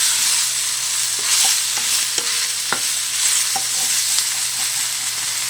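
A utensil scrapes and stirs browning food in a hot pan for freezer meals, with a steady loud sizzle throughout and scattered scraping clicks on top.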